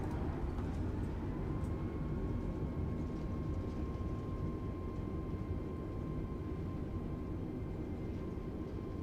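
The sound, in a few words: Airbus A320neo reverse thrust on touchdown, from video game MSFS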